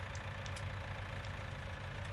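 A tractor engine idles steadily in a grass field, a low continuous rumble with no break or change in pitch, heard fairly faintly.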